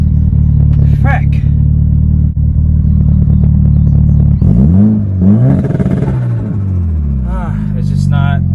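A Mitsubishi Evo 8 engine runs rough and loud right up close, with a steady fluttering idle that then rises and falls through uneven revs, while someone talks over it.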